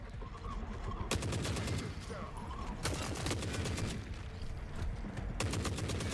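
RPK machine gun fire in the Forever Winter video game: steady rattling automatic bursts with sharp louder volleys breaking in three times, loud and close throughout.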